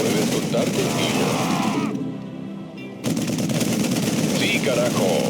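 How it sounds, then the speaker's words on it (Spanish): StarCraft 2 gunfire rattles in fast, loud machine-gun bursts. They drop away for about a second and then come back just as loud, with voices talking under part of it. "Están disparándoles a los civiles."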